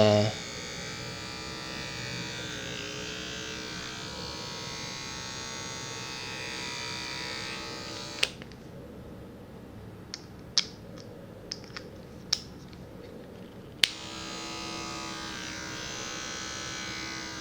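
Andis cordless hair clipper switched on after a brief charge, a steady close electric buzz running continuously, with a short stretch of quieter clicks and handling taps partway through before the hum resumes.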